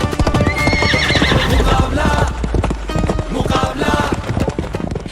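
Galloping horses in a story sound effect, with loud rapid hoof clip-clops and neighing whinnies running throughout, close and dense.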